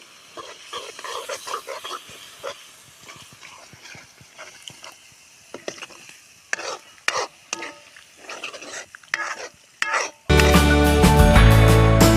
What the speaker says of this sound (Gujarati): તો ફટાફટ નાખી દે રીંગણા